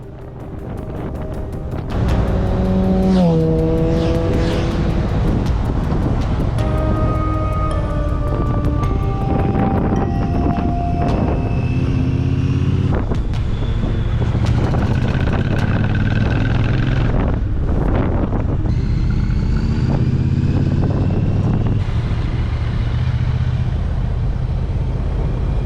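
Two Triumph motorcycles descend through forest on mountain switchbacks in Austria's Nockberge, a steady, loud engine drone with shifting gear tones and heavy wind rush throughout, no talking.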